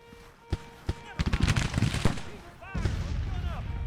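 A Civil War battle in Grand Tactician erupts with a ragged rifle volley, a burst of sharp overlapping cracks and booms that roll on into continuous gunfire, with shouting voices mixed in around them.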